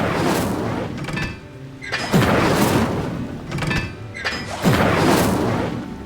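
In the Hogwarts Legacy video game, Incendio fire spells are cast in repeated heavy whooshing booms that come about every two and a half seconds, each swelling and fading, with no clear voice over them.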